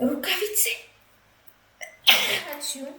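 A single sharp sneeze from a person bursts out loud and close after a short pause, with casual talk in the clip before and after it.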